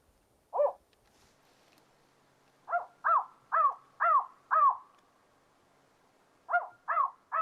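An electronic survey caller plays spotted owl hoots: a single hoot, then a quick run of five, then three more, each short, clear and close in a quiet setting.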